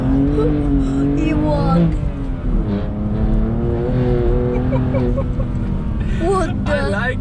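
A BMW M2 Competition with a new carbon fiber exhaust drives hard, its engine droning and rising in pitch through gear changes, loud and close inside the car while someone speaks briefly over it.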